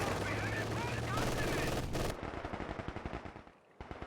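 Machine gun fire in Company of Heroes 2 comes in a rapid, dense rattle of bursts, loud and close, over layered battle sounds. It tapers into separate shots with short pauses.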